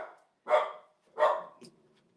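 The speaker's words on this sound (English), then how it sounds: "I am having problems with my dog today. She's not normally this vocal." A female dog barks indoors in two loud, separate woofs, each with a short tail, followed by a softer yip. There are quiet gaps between the barks.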